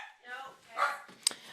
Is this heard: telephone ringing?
no